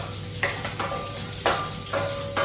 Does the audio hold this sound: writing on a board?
no